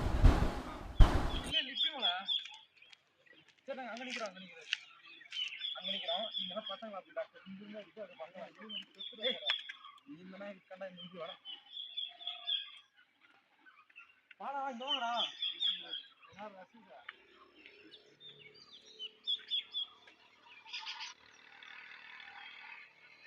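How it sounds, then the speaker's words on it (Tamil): Wild birds at Meghamalai in India call in short, sharp bursts, with a pair of birds repeating their cries several times, heard close and clear in a quiet forest setting with a few gaps between calls. "இதுதான் அந்த காட்டு பறவை ஜோடியாக இருந்துச்சு"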